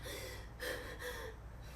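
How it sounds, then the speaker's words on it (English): Yogic clavicular breathing with the stomach pulled in: three short, sharp, breathy inhalations in quick succession, close and fairly quiet, with no talking. "So I've now pulled in my stomach and I'm breathing clavicularly."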